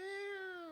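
A person imitates a cat's meow with a single drawn-out, steady, nasal mew sustained for under a second, close and clear with no other sound.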